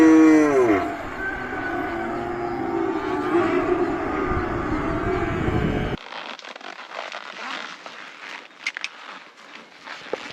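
Cattle moo loudly in a corral, one long deep bellow at close range followed by lowing, then quieter outdoor sounds with faint footsteps and movement.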